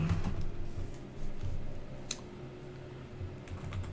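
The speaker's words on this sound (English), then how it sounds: "I'm just going to have to type this out, I think." Quiet, irregular clicking of keys being typed on a computer keyboard, a steady run of soft taps that continues alone for several seconds with no voices.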